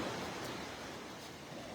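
Sea waves wash onto the beach at Schino, giving a steady, soft, continuous rush of surf with no voices.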